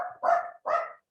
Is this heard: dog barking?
yes